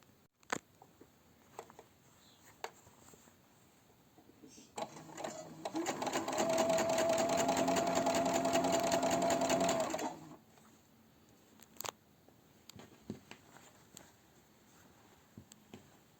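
A sewing machine stitches smocking on a Frida blouse in one steady, fast, buzzing run lasting several seconds. Light clicks and handling noises come before and after it.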